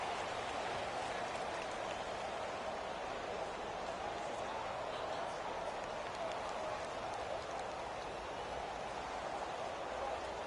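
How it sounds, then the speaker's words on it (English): Steady rain falling during a football game, a constant dense hiss of drops with no letup throughout. "Well, Charles, the forecast called for rain throughout the entire game, and we got rain throughout the entire game"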